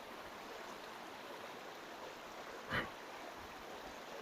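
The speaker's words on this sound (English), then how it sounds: "I find a place like this that has a little waterfall" A small trickling waterfall on the Appalachian Trail gives a steady, soft broadband rush throughout, with one brief louder splash or knock near the end.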